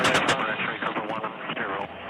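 Rapid bursts of gunfire from attack helicopter weapons in combat, heard as dense, harsh crackling shots over a constant rotor and engine roar, loud and continuous for about two seconds.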